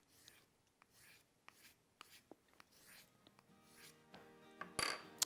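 Faint, intermittent rasping strokes of a compound-charged wooden dowel drawn across a crooked carving knife's edge, several short scrapes with small clicks, ending in a brief bright metallic chink, quiet and close.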